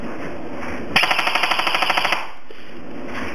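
A Classic Army airsoft gun fitted with a Hummer 1100 motor fires a loud, close burst of roughly a dozen evenly spaced shots lasting about a second, with motor whine before and after.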